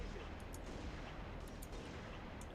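Gunshots in the video game Halo: Reach pop faintly and repeatedly beneath a low, steady background rumble, fairly distant and muffled.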